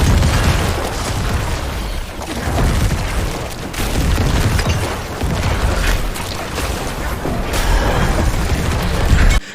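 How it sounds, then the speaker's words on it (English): A rapid chain of booming corpse explosions, set off by blood mist in the video game Diablo 4, rumbles loudly and almost continuously, with pops and bursts layered over one another. "your blood mist triggers corpse explosion on surrounding corpses"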